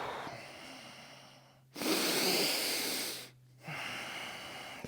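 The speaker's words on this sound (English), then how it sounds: "we're going to take a deep inhale as the arms come up and as they go down the back, and exhale" Deep breathing during a yoga kriya: a long, forceful, airy exhale stands out loud and close, with softer steady breaths before and after it.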